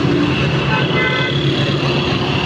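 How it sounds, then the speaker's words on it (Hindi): Busy road traffic in Peshawar, Pakistan, with cars and trucks rumbling past close by in a steady, loud wash of engine and tyre noise; a horn toots briefly and people talk faintly underneath. "पीछे ट्रैफिक आ रही है"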